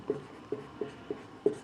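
Short scratchy writing strokes on a board come in a steady series of about five distinct, evenly spaced marks, fairly close and quiet, with no one talking.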